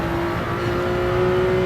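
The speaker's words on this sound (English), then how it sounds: "then you quickly upshift 2 gears up to third gear once the car's on the apex" Gr3 race car in Gran Turismo 7 at Watkins Glen, engine droning loudly and steadily as it pulls out of a corner, a continuous close whine without pause.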